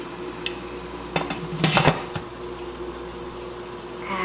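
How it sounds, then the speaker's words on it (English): A lid set onto a steam juicer pot filled with grapes gives a brief metallic clatter and scrape over a low kitchen hum. "Now we're just putting on the lid."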